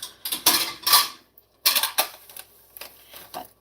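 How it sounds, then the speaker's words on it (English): Dishes being unloaded from a dishwasher and put away: a few separate clattering clinks of plates and cutlery, close and fairly loud, in short bursts with pauses between. "Can I get all of the dishes put away in 7 minutes"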